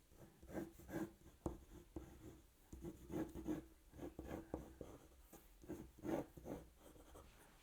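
Graphite pencil rasps across paper in quick, repeated strokes while rough figure sketches of people take shape, a steady close-up scratching with short pauses between bursts.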